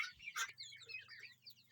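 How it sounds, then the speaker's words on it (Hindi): Turkeys, guinea fowl and Sonali chickens crowd around spilled rice, giving high chattering calls and clucks over a low steady hum, near and fairly faint. "इसमें टर्की भी है, गिनी फाउल भी है, सोनाली भी है।"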